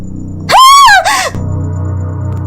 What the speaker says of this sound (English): She lets out a scream